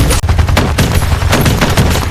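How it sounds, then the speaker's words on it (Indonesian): A film gunfight with Russian troops: loud, dense bursts of automatic gunfire and rapid shots crackle continuously with no pause, close and harsh. "Bunny dan pasukannya sudah mulai baku tembak dengan beberapa pasukan Rusia"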